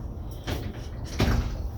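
A van door opening, with two soft thuds and a slide of the latch a moment apart, close and fairly quiet in a small enclosed space.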